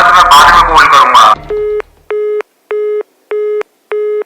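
Brief burst of speech and rustle, then a telephone busy signal: five evenly spaced, clean electronic tone pulses with silent gaps, loud and isolated.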